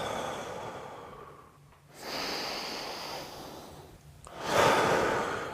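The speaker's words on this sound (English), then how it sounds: "Bring your breathing back to normal." Heavy breathing after a yoga workout: two or three deep, audible inhales and exhales, the last one louder, close and without talking.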